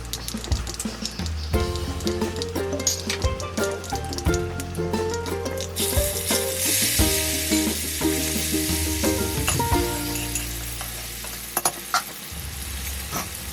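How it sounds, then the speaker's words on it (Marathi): Black pepper, cinnamon pieces and curry leaves sizzle in hot oil for spiced rice, a steady frying hiss that grows brighter partway through, heard under continuous background music with no talking. "दोन ते तीन काळी मिरी आणि कढीपत्ता तेलामध्ये मी घातलेला आहे हे आपल्याला मिनिटभर परतून घ्यायचं आहे"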